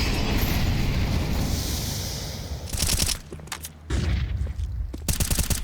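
Counter-Strike gunfire during an IEM Cologne Major esports match, with bursts of rifle shots cutting in around the middle and again near the end over a steady busy game backdrop.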